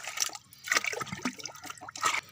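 Lime (chuna) being stirred and dissolved into water for feeding brinjal and tomato plants, with a soft liquid sloshing and splashing in irregular bursts, close and moderate in level.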